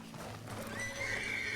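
A horse in the RedM western roleplay game lets out a rising, drawn-out whinny over low background rumble, moderately close, with no one talking.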